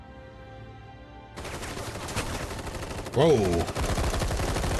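An army in the video game Final Fantasy VII Rebirth opens up with dense, sustained gunfire: rapid volleys that grow louder partway through, while a man briefly exclaims over the shooting.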